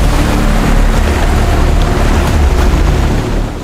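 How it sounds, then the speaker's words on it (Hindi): Large waterfall in the Himachal Pradesh mountains, a loud, dense, unbroken roar of crashing water heard close up, steady for the whole stretch and fading slightly at the very end. "ये वाटरफॉल बहुत बड़ा है।"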